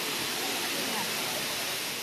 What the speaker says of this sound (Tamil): அந்த கல்லெல்லாம் வந்து படிப்படியாக இருக்குல்ல, செப்டப்பாக இருக்கிறதுனால அப்படியே விழுற தண்ணி வந்து ஷவர் மாதிரி ஆயிடுது